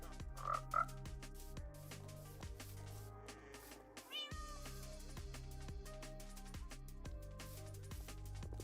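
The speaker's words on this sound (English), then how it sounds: "we'll have to get the frogs" Frogs croak in the game Minecraft, a quiet chorus of repeated low croaks in a regular rhythm, with a few higher mewing calls layered over them.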